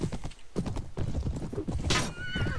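A horse in the medieval game A Clash of Kings clip-clops along at a steady rhythm, close and clear, with a brief whinny and a sharp rustle near the end.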